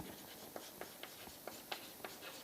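Chalk or marker strokes on a board during a lecture on composite prestressed concrete sections: a quiet run of short, evenly spaced scratches and taps, faint over a soft room hiss, with no voices.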